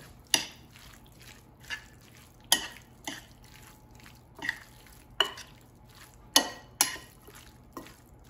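Canned tuna ceviche with lime and ground cumin gets mixed in a bowl, giving intermittent wet, clinking stirs and scrapes at an irregular pace, some sharper than others, against a quiet background with no voices.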